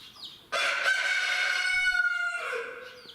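A guinea fowl calls loudly and close by in a backyard poultry pen, a sustained, harsh harmonic cry held for about two seconds and then trailing into a lower squawk.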